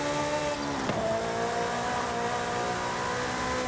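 Ferrari F8 with 1,000 horsepower driving in Forza Horizon 5, a steady loud engine drone with harmonic tones throughout and a brief swell near the start as the rear wheels slip.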